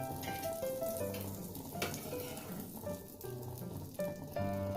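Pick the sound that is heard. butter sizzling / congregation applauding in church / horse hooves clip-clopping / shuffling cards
butter sizzling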